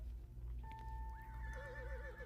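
A horse whinnies in the Horse Life video game, one clear rising and wavering neigh over a low steady background hum, alone without talk.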